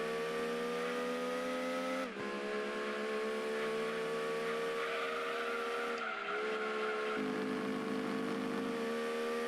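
A Mazda MX-5 Miata race car engine in Gran Turismo 2 screams at high revs, a loud, sustained tonal whine that dips briefly at gear changes and then climbs again, continuous with no talk.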